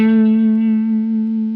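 A single sustained guitar note fretted at the 5th fret rings out clearly and alone, its steady tone decaying slowly with a rich stack of overtones.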